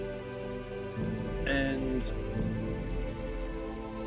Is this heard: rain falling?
yes